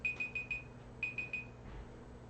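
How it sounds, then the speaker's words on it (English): An alarm clock goes off with rapid bursts of high electronic beeps, two clusters of quick pulses separated by a short pause, fairly faint in a quiet room. "Oh, my alarm."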